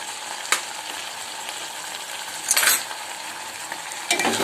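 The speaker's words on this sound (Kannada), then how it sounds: "ಎಲ್ಲವನ್ನು ಕ್ಲೀನಾಗಿ ಮಿಕ್ಸ್ ಮಾಡಿ" Spices such as coriander powder, garam masala and jaggery powder being stirred into North Karnataka-style capsicum palya frying in a pan, a steady close sizzle broken by a few louder scraping strokes of the spoon.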